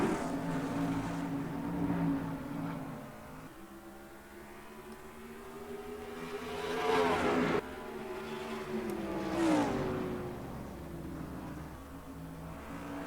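Race trucks roar around Richmond Raceway in the NASCAR Racing 2003 video game, engines droning loudly and shifting pitch as they rise and fall through the corners, with no talk over them.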